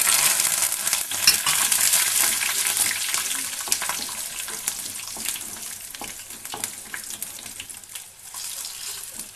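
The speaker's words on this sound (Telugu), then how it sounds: "వీటిని మనం బ్రౌన్ కలర్ వచ్చేంత వరకు వేగనిచ్చుకోవాలి. తర్వాత కరివేపాకు, ఎండుమిర్చి" Ingredients frying in hot oil with curry leaves and dried chillies for vankaya pachadi, a loud close sizzle that crackles and spits, easing slightly in intensity with scattered pops, no talking.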